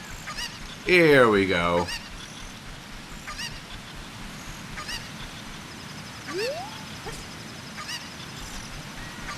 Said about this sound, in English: And goodbye, Mr. Chicken.